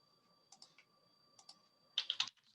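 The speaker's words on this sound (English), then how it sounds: "Now I can start typing what I want to find out" Short bursts of typing on a computer keyboard as search terms are entered, a few soft clicks and then a quicker close flurry of keystrokes, with no talking.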